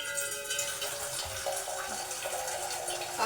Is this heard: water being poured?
yes